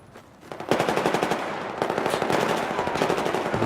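Rapid automatic gunfire from a Battlefield 4 match on the Dawnbreaker map, a dense unbroken stream of loud bursts following a brief quieter lead-in, with no voices.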